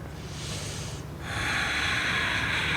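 A long, steady exhale during a yoga flow, breathy and close, swelling louder partway through and holding to the end.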